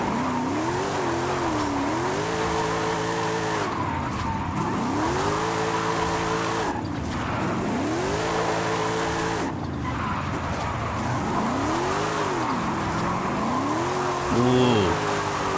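A Mercedes-Benz drifts in Forza Horizon 5, its engine rising and falling through repeated revving sweeps while the tyres squeal and hiss. The car sounds loud and close and holds the drift without a break.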